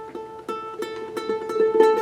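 Single ukulele note plucked on the fourth string, fretted at the second fret, ringing clearly and close with a steady sustained tone, picked repeatedly in a gentle rhythm.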